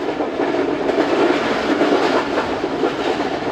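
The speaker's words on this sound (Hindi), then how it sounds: "लाला मूसा के बाद से ट्रेन अच्छी स्पीड से आ रही है" Jaffar Express passenger train running at speed between Lala Musa and Lahore Junction, a steady loud rumble of wheels on rails with faint rhythmic clatter, continuous throughout with no talk.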